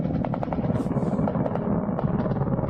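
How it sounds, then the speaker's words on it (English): Helicopters flying in a war zone in Ukraine, heard as a steady, continuous rotor drone with a rhythmic chopping texture, moderately loud and with no clear talk over it. "You see, there's helicopters."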